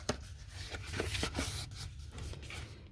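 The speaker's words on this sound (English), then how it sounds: "I'm cutting through both layers, and then same on the other end" Scissors or a blade cutting through two layers of card for a gold, sparkly Christmas cracker, with a steady close scraping and rasping broken by a few sharp snips.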